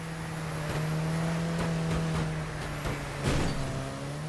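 Small car shoving a bus in Wreckfest, a low steady engine drone with a sustained hum, broken by scattered scraping and knocking impacts and a louder crunch near the end.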